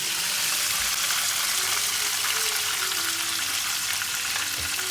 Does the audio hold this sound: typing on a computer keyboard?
no